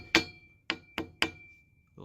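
An Allen key strikes a metal anode freshly bolted onto a boat: four sharp, ringing metallic taps, the first louder, spaced unevenly and close by, each leaving a short bright ring.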